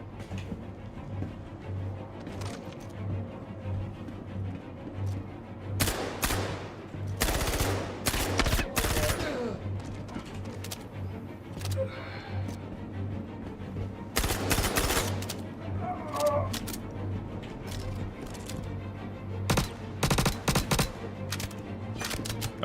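Gunfire in the video game Star Citizen comes as repeated bursts of rapid automatic shots in several clusters, sharp and loud against a low steady hum, with quieter pauses between volleys.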